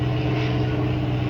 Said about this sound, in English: there's like 3 helicopters have come since I started this video